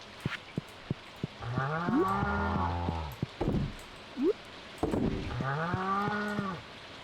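Cows mooing in the farm game Stardew Valley: several long, loud moos, one after another, with short clicks and a brief chirp between them.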